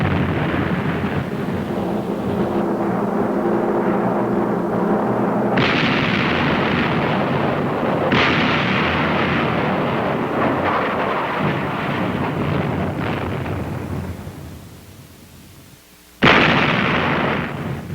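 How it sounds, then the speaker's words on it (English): Naval destroyer guns fire a broadside in a continuous, loud, rumbling barrage of overlapping booms, with sharp renewed blasts and a brief lull before a final close detonation. "when the guns are firing efficiently, like this"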